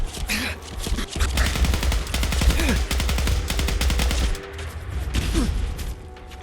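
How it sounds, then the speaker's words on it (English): High-level turrets in Fallout 4's Far Harbor unleash loud, sustained automatic gunfire, rapid bursts rattling almost continuously with only brief gaps and a few whining ricochet-like tones. "Damn high level turrets as well."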